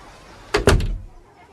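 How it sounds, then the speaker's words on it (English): A door swings shut as a story sound effect, a close, solid thud with a quick double knock of wood and latch, followed by a short fading rumble, alone with no talk. "And the woman closed the door."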